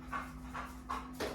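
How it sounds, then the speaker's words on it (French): Dogs running up close and panting, with four rhythmic breathy huffs at an even pace over a faint steady hum. "J'ai mes chiens qui arrivent à toute allure à côté de moi"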